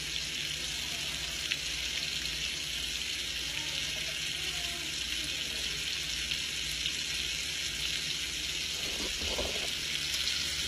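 Scallops sizzle in a hot pan after being flipped, a steady broadband frying hiss running the whole time, with a brief clatter near the end.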